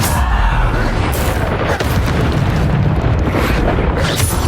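Bombarda spell explosions in the Hogwarts Legacy video game, loud booming blasts that follow one another in a dense, continuous roar with sharp bursts layered on top.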